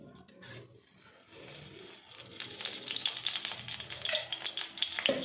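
Two spoonfuls of ghee heat in a pan for carrot halwa, starting as a faint hiss that swells into a steady, close crackling sizzle with small pops.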